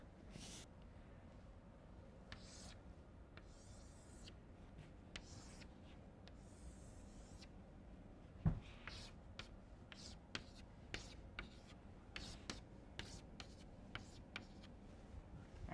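Chalk tapping and scraping on a lecture-hall board, a long run of scattered sharp ticks and short strokes, some louder knocks, over a steady room hum with no voice.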